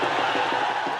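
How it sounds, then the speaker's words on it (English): A large crowd cheers at the Wagah border parade, a dense, continuous roar of many voices with shouts rising out of it, loud and steady throughout. "the crowd is now cheering"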